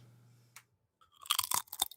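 Crunchy food is bitten and chewed close to the mic in a quick burst of crisp crunches after a brief low hum and a soft tap.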